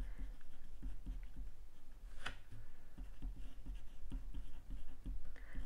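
Pen writing out steps on paper during a maths lesson on percentage multipliers, a run of soft tapping and scratching strokes under a steady low hum, with one brighter scrape near the middle.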